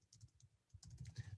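Computer keyboard typing, a short quick run of close, light key clicks that grows denser toward the end.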